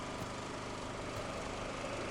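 A robot drilling in the video game Blossom: The Seed Of Life, heard as a constant, dense mechanical whirring drone at even loudness throughout, with no talking.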